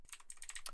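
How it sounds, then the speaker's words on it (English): Fingers tap out a command on a computer keyboard in a quick, faint burst of crisp keystrokes, heard alone and close. "we're going to type curl-l with a capital"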